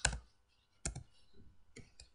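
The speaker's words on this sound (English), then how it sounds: "Gotta type it all again." Keys clatter on a computer keyboard in three short bursts of quick taps separated by brief pauses, close and fairly loud.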